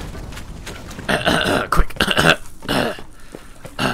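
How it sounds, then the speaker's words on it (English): A person makes short, abrupt, throaty hiccup-like bursts, a few in quick succession, loud and close, mixed with breathy voice sounds. "Now I have the hiccups."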